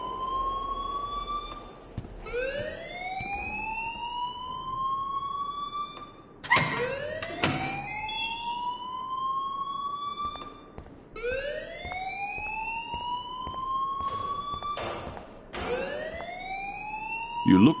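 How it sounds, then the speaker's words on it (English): A rising-and-falling siren-style alarm rings in the Life is Strange video game, sweeping up in repeated wails about every four seconds, loud and continuous with brief bursts of noise between cycles. "please turn off that alarm since that's your job"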